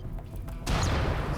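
Turrets firing at centipedes in the RimWorld video game: after a quieter start, a sudden loud burst of gunfire and impacts erupts and sustains as a dense, rumbling volley.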